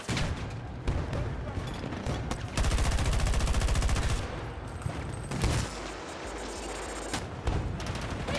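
Bursts of rapid video game gunfire crackle loud and dense, with a sustained automatic stretch in the middle, over a rumbling battle backdrop and brief talk.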